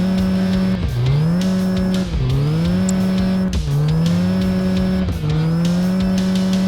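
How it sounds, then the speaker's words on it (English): A mini truck engine revs hard under acceleration, climbing in pitch through each gear and dropping briefly at every shift, four strong upshifts in a steady rhythm, loud and close with no talk. "We're going to actually shift through the gears on this one."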